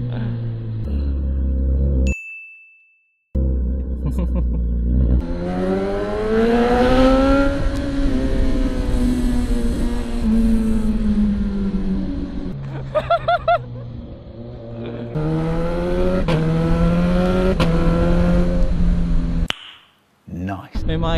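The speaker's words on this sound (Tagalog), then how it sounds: "mamaneuver natin yung pagkabigat na itong big bike" A 450NK big bike's engine revs and pulls while being ridden, its pitch climbing and falling through repeated throttle surges, with a brief cut near the start and a dropout near the end.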